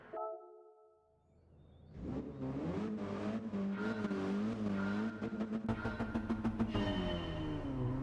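A race car in Gran Turismo revs hard at the start of a race. After a brief tone and a quiet gap, the engine roars up loud and sustained, with wavering pitch and stuttering bursts near the end.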